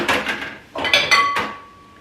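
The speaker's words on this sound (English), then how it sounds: "So I need a bowl." A bowl is taken out of a kitchen cupboard in a few quick ceramic clatters and knocks, close and fairly loud. One clink rings on briefly before fading.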